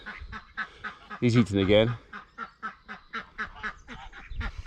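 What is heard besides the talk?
duck quacking, shut in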